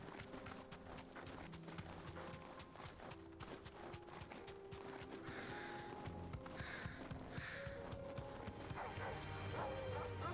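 A dog barks repeatedly in Final Fantasy 16 against busy game sound: mechanical clatter, hoof-like clopping and shifting tones, moderately loud, with no talk.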